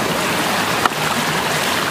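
Mountain river rushing at a stream crossing in the hills of Arunachal Pradesh near Sirki Waterfall, a steady broad wash of moving water filling the scene, close and continuous with no voices.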